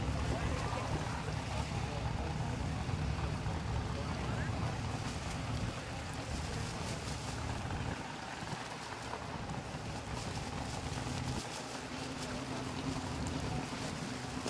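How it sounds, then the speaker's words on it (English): A K-Racing runabout race boat with a 1600 horsepower blown alcohol engine roars steadily across open water, a continuous distant drone blended with wind buffeting and water wash. "K-Racing runabout, 1600 horsepower blown alcohol flats"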